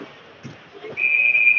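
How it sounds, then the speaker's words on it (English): A referee's whistle at a high school varsity ice hockey game shrills in one sustained, piercing blast after some faint rink noise, loud and fairly close. "We get the whistle."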